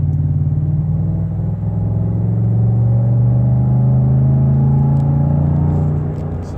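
A 2013 Ford F-150 with a resonator and Dynomax VT exhaust accelerates with a loud, steady low droning rumble that rises gradually in pitch, heard close and without talk.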